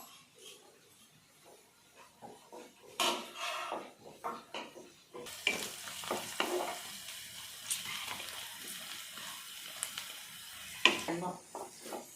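Green chillies sizzle in hot oil in a pan while being stirred for gobi pakodi, a loud hiss starting midway with scraping and clinking of utensils, and a voice talks over the cooking.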